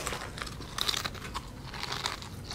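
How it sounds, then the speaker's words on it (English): Someone crunching food close to a microphone, soft crinkly bites and chewing crunches in short irregular bursts over a quiet background. "Hey, quit crunching at the camera."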